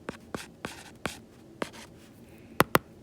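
Pen strokes scratching on paper while working a derivative-at-a-point problem in math, a series of short close scrapes about every third of a second, ending with two sharper, louder strokes.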